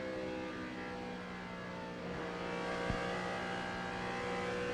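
2006 NASCAR Nextel Cup race cars at Michigan roar past in a steady, loud engine drone that swells slightly, with a brief thump midway and no voices.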